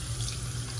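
A brief, constant stream of tap water runs over an electric shaver blade in a sink, a close, even rushing flow washing out hair.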